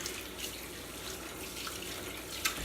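Running tap water splashes continuously into a kitchen sink as hands are washed after touching raw pork, a steady close hiss with a small knock near the end and no talking.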